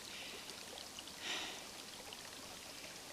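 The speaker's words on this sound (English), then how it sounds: "this wonderful stream as the water is coming out of the lake a little bit" Water from a lake runs out along a small stream outdoors, a steady soft wash of flowing water with a brief brighter splash in the middle, faint and continuous.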